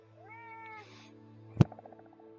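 A house cat gives a rising, drawn-out meow, followed by a brief sharp bump and a few fading knocks in an otherwise quiet room.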